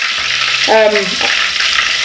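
Mackerel fish frying in oil in a deep pot, a steady close hiss and sizzle throughout, with a brief tonal clink partway through.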